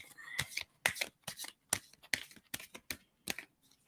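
A deck of playing cards is shuffled in a series of quick, crisp riffling bursts close by, roughly a dozen separate flurries over a few seconds.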